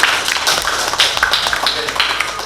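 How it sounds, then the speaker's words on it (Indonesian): A classroom group claps for a short moment, with scattered, uneven hand claps close by and no voices. "Maka kita berikan satu aplaus untuk kelompok 6"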